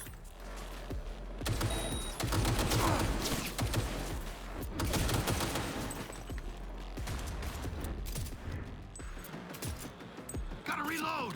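Gunfire in Cyberpunk 2077, rapid overlapping shots and mechanical clatter at close range, loud and continuous for most of the stretch, with someone talking over it.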